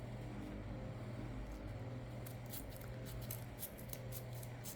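Scissors cutting through thick junk journal material, a steady close snipping that grows into brisk repeated cuts over a low background hum, with no talking.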